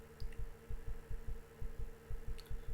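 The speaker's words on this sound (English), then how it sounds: "All I can clearly hear is the sound of my heartbeat." Heartbeat sound effect in a story reading, thumping in a steady double-beat rhythm, close and muffled over a low hum with no voice.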